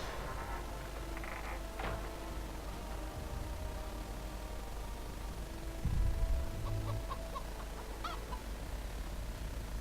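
A chicken clucks in the video game The Witcher 2, a few scattered short clucks over a quiet ambient background with a low thump midway.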